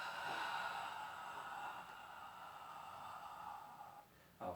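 A steady, breathy exhalation from someone doing a Pilates roll-up runs for about four seconds, quiet and close, then ends with a brief fresh breath.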